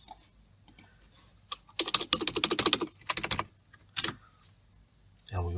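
Bursts of fast typing on a computer keyboard, crisp clustered keystrokes arriving in several quick runs separated by pauses, close and clear with no voices.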